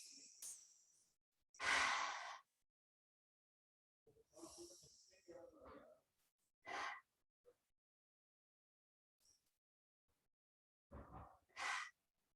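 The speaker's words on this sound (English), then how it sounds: "we can just take 3 deep breaths whenever you're ready" Three deep breaths taken slowly in a quiet baby yoga class, each a soft, drawn-out inhale and exhale with long silent gaps between.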